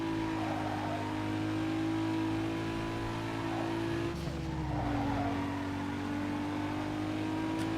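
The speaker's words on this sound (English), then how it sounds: "Yeah, somebody spun out." In Need For Speed Underground 2, a race car spins out with a sustained skid and tire squeal that runs over a steady engine drone. The engine pitch shifts midway through, and the sound stays loud and close the whole time.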